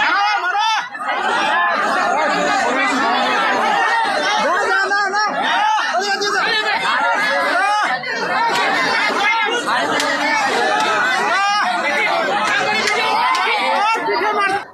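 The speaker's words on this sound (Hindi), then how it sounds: "आदिवासी महिलाओं को बीच रास्ते में एक निर्मम भीड़ उन्हें मार रही है और उन्हें निर्वस्त्र कर रही है।" A large, agitated crowd on a street in West Bengal, dense overlapping shouting and chatter from many voices at a constant loud level with no break.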